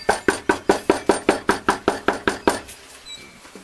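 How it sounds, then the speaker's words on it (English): Knuckles rap on a door about fourteen times in a steady, even rhythm. Each knock is loud and close, and quiet follows the last one. "let's see if I can't knock"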